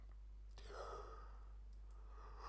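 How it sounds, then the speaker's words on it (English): A single soft, breathy yawn, close and quiet, drawing out over a second or two and fading to a sigh. "Oh, why am I yawning?"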